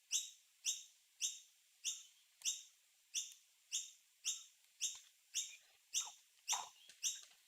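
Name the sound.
birds chirping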